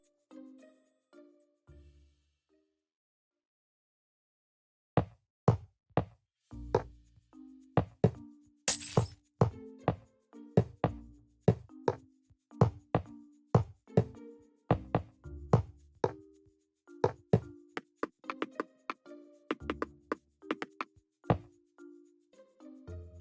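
Crisp glassy clinks and knocks from white stained glass blocks being placed one after another in Minecraft, starting after a few quiet seconds and then running as a fast, irregular series of sharp taps, fairly loud and close.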